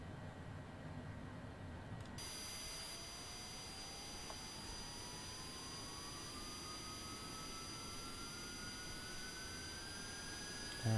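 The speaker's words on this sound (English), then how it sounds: "So start up the engine on the right hand side now, so engage starter, open the guard, and set the engine to run." A Cessna Citation Longitude jet engine in Microsoft Flight Simulator 2020 spools up from a starter whine into a rising turbine tone that climbs slowly and steadily over a constant low rumble.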